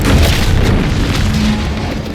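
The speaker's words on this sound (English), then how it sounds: "What's that? An explosion?" A loud, close explosion in the video game The Outer Worlds 2, a heavy booming blast with rolling low rumble that holds for about two seconds before easing slightly.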